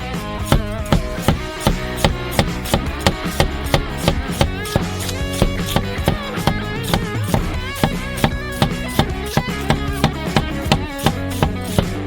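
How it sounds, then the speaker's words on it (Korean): A knife chops garlic on a board for shawarma prep, a fast, loud, steady run of crisp knocks close up, with no talking. "썰어주세요."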